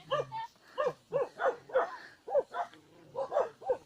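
A dog barks repeatedly at close range in a steady series of about a dozen short, yappy barks and yips, with no gaps for talk.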